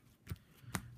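Two quick, soft riffles of Magic cards being pile shuffled, close by and spaced about half a second apart, with no talking.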